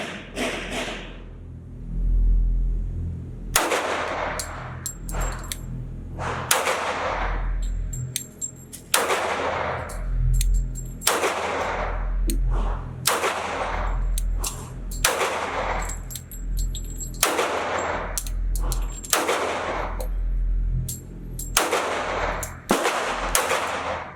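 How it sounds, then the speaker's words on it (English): A Kimber Polymer Pro Carry Ten II 1911 pistol fires at a range in a dozen or so loud, sharp single shots spaced a second or two apart, each with a ringing echo. "I'm now going to show you my first shots at the range"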